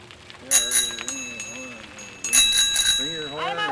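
A bicycle bell rings in a couple of quick bursts during a group bike ride on a public art tour through Winnipeg, bright and close, with voices talking around it.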